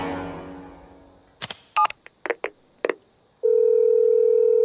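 A telephone is dialed: a few clicks, then a short run of separate keypad beeps, followed by a steady ringing or dial tone that holds to the end, with no talking.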